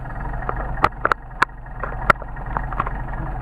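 A Mercedes 190SL engine with Solex carburetors idles low in cold weather, a steady deep rumble broken by a few sharp clicks and knocks.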